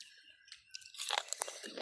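Crunchy biting and wet chewing of raw beef in a Lao dish, close to the mouth, with a quiet start and then a run of dense, irregular crunches.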